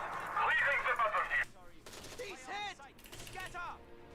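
Machine gun fire from two MG teams in a Company of Heroes 3 battle: a dense, loud burst of rapid shots for about a second, followed by quieter in-game battle sounds and chirping effects.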